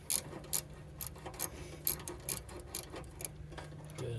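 A ratcheting wrench tightens the stock air filter clamp on an air intake, giving quiet, close clicking bursts at an uneven rhythm, roughly ten short ratchet strokes with brief pauses between.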